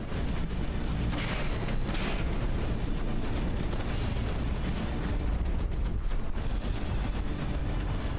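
Weapons fire in the From the Depths naval combat game as a dense, continuous roar of booming shots and rumbling blasts, loud and unbroken throughout.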